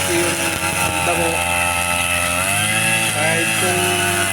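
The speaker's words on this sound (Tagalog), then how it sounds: "Nadatnan ko na lang to si Ruel na pag-grass cutter." A grass cutter trims overgrown grass, its motor droning loud and near the whole time, the pitch dipping and climbing as the load changes.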